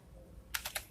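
Three quick keystrokes on a computer keyboard while code is being entered, crisp and close in an otherwise quiet room.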